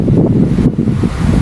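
Strong mountain wind buffets hard and close, a loud continuous low roar with gusting surges and heavy rumble, no talking heard.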